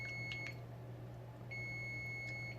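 Kitchen timer beeping in a home kitchen, short bright electronic beeps in two bursts with a pause between, over a steady low hum and no talk.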